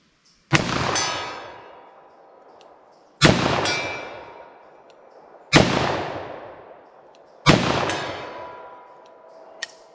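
Four loud, sharp .44 Magnum revolver shots fired double action, each ringing off a steel target with a metallic clang that decays over roughly two seconds, evenly spaced with quiet gaps between.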